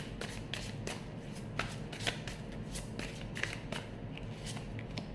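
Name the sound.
tarot cards being shuffled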